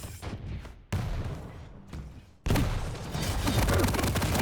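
Rocket fire in a fast video game fight, dense booming blasts and explosions in quick succession, loud and continuous with sharp onsets.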